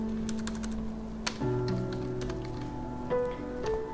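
Fingers typing a poll title on a computer keyboard, a steady run of quick key clicks at close range over a faint tonal background hum, with one sharper tap partway through.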